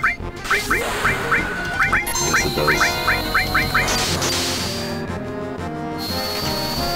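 Chicken enemy sounds from the Final Fantasy VII battle, a run of quick, evenly spaced squawks and quacks over game music, followed by steady battle tones, with a brief spoken remark near the end.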